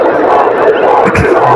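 A crowd on benches at a night cricket tournament match in Shopian, under lights, roars with loud, sustained cheering and shouting that fills the whole moment, with a brief swell partway through.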